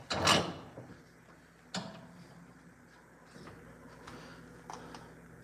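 A bearing being knocked out of an RC car part: one sharp loud tap near the start, then a second lighter knock and a few faint clicks and handling sounds.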